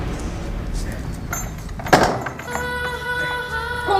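A door clatters once with a single sharp bang midway, set against a murky indoor background with voices around it.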